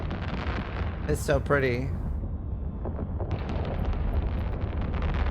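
Ships firing weapons in a large battle in the video game EVE Online, heard as rumbling distant blasts and crackling bursts under wind-like noise, with a person speaking briefly over it.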